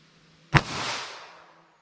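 A single sharp gunshot from a handgun firing a .22 WMR round at a shooting test, close and loud, with a crack followed by a fading echo that rings out for about a second.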